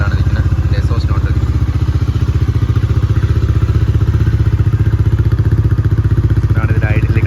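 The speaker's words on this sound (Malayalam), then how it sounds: "ഇതാണ് ഇതിൽ ഐഡിൽ കിടക്കുന്ന ശബ്ദം." A new motorcycle idles steadily at about 1500 RPM, its close, loud exhaust note a continuous rapid low thumping with slight clatter, unbroken throughout.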